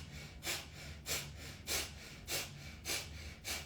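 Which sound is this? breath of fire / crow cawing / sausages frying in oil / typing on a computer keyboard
breath of fire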